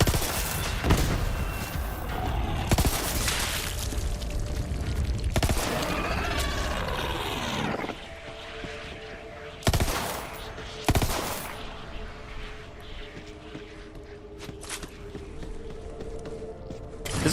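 Pistol gunfire in the shooter game Borderlands 3, loud bursts of rapid shots coming in several separate volleys, with quieter stretches of battle noise and mechanical clicks between them.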